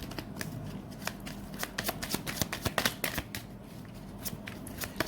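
Tarot cards shuffled by hand for a single-card draw, a steady run of crisp riffling clicks and soft slaps close by, with no talk over it.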